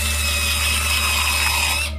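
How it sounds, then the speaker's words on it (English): A high-pitched dental drill whines steadily and close up, boring into a tooth during a root canal, with a constant tonal buzz and low hum that cuts off abruptly at the end. "They drill into your tooth"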